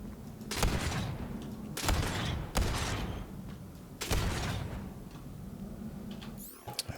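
A fast-firing rocket launcher in Borderlands 3 lets off a series of sharp, loud discharges at irregular intervals, each trailing off into a rumbling decay, with a short mechanical rattle at the end.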